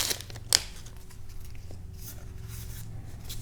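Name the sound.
tearing open a trading card booster pack (Argent Saga)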